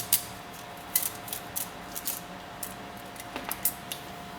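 3D printer filament is snipped by hand in a short series of sharp, faint clicks and snaps with small gaps between them, set against a quiet room with a steady electrical hum.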